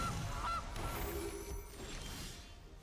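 Goose honking sound effect from the Gilded Goose card in the MTG Arena digital card game, a couple of nasal honks over a busy game soundtrack.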